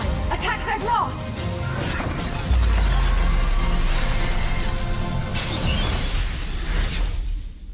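Glass shatters and crashes in the Moss Glassbreakers video game, loud and repeated amid a dense, booming trailer soundtrack, with voices now and then.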